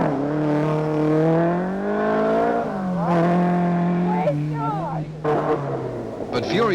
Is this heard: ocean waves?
no